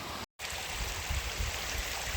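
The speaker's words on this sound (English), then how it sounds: "I'm standing in the creek because we got to cross over there" A creek on a Missouri hollow trail near Bonne Terre flows steadily with a broad, even wash of running water, close and constant, interrupted by a brief dropout near the start and carrying no voices.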